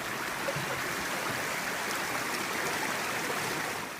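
Rollins Creek, flowing past a campground and small bridge on a northern Minnesota hike, gives a steady, even rush of water, close and continuous, with no voices.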